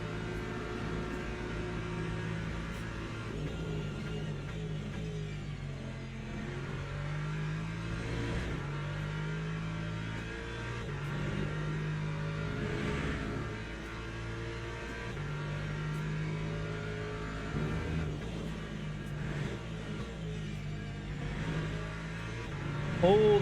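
Race car engines in the Le Mans Ultimate sim racing game drone steadily throughout, with sustained revving and pitch shifts as cars run the circuit, including a BMW, under intermittent talk.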